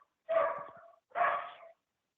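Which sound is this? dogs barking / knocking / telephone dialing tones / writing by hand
dogs barking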